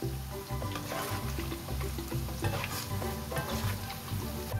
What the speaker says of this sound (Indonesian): Kita goreng menggunakan minyak sedang cenderung kecil biar matangnya crispy ya.